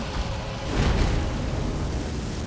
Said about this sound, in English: God, I hate that fucking explosion.